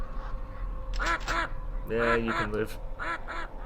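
Cartoonish duck quacks come in short bursts, two quacks and then a longer cluster, in the shooter game Killing Time Resurrected, close and clear. Someone speaks briefly and a sharp click sounds between the quacks.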